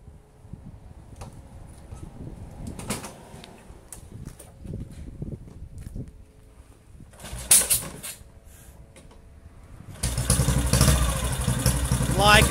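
A rebuilt 1950 Royal Enfield motorcycle starts and runs for its first test ride: quieter mechanical handling and knocks at first, then a loud, steady engine roar close by for the final stretch.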